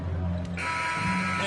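Final buzzer at the end of an NBA 2K MyCareer basketball game, a steady electronic tone sounding loud under a commentator's voice and crowd noise.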